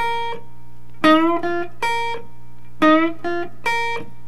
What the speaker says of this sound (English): I'm bending the G string right here